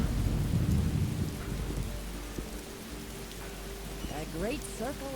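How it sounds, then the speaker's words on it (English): A Morrowind thunderstorm: heavy rain hisses steadily while a deep rumble rolls under it and eases off, and short chirping calls break through near the end. "and you see that's my thunder and lightning mode"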